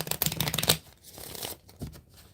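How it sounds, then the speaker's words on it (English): A deck of moon oracle cards being shuffled, a rapid flurry of riffling card flicks up close for under a second, then softer scattered handling sounds and brief rustles. "let me do one more shuffle"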